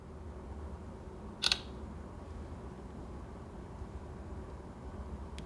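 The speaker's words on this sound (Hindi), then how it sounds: "तो एक पिक्चर मैं बना लेता हूँ।" A Tecno Spark 7 phone camera takes a picture with one brief, crisp shutter click that stands out against a faint, steady background hiss.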